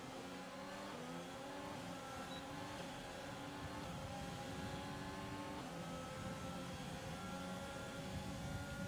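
Ferrari-powered Formula 1 car engine in the F1 2020 racing game, a continuous high-revving whine that rises and falls through gear changes, heard steadily and fairly faint throughout.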